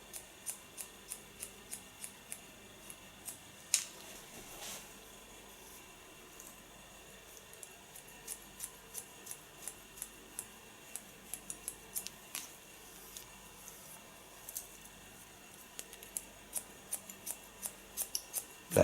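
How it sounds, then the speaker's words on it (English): Scissors snip crisply through hair again and again, in a close, quiet series of sharp clicks at an uneven rhythm, with no talking. "I use the slice cutting technique"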